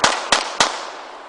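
Three sharp gunshots crack out in quick succession, each a loud close report with a short fading tail, the third followed by a longer decay.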